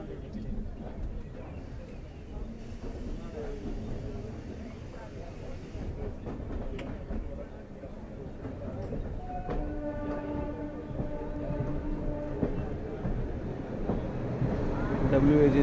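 The Delhi Pathankot Superfast Express pulls out of Ambala Cantt junction as a steady low rumble of rolling wheels. Tonal hums rise partway through, with a faint background voice and the noise slowly growing louder.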